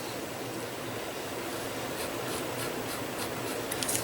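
A blade scores a fold line across card with a soft, steady scratching drag under a constant hiss, ending in a few faint ticks.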